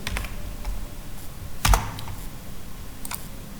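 Sparse keystrokes on a computer keyboard tap out a few characters in MS Word, with one louder click near the middle, close and clear over a faint background hiss.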